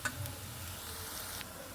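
Onion and garlic fry in hot oil for an aubergine mash, a steady close sizzle with a few soft stirring clicks, no voices.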